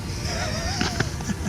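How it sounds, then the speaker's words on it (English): Ice cracking and breaking underfoot while walking along a frozen river in a barren landscape, with a few sharp crunching snaps near the close over steady outdoor background noise. "I just broke through that ice."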